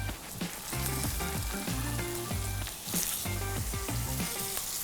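Salmon sears skin-down in hot oil in a pan, a loud, dense, continuous sizzle and crackle with no talking.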